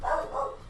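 A dog gives two short barks in quick succession, fairly close and moderately loud, over a faint low background hum.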